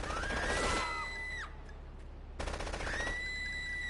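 Sniper rifle fire in GTA 3 gameplay on PS4, two loud shot bursts separated by a quieter gap, with whistling game effects trailing each blast.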